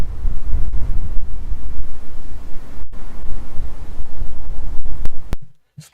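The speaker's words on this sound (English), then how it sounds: "Does sound like the wind is picking up again." Strong wind buffeting the microphone at the Port of Southampton as cruise ships depart, a loud, continuous gusting roar with low rumble that briefly drops out before cutting off near the end.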